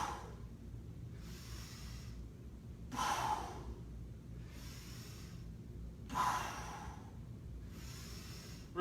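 Heavy breathing during a squat workout: two loud, forceful exhales about three seconds apart, with quieter breaths between them over a low background hum.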